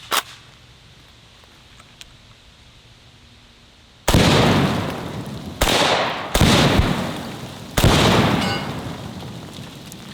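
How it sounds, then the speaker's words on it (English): Poison bullet rounds fired at pumpkins ring out as four loud, close shots after a quiet lull, each a sharp blast with a lingering rumbling tail, spaced about a second or two apart. "I want to hit them with the poison bullet since we know this is an effective round"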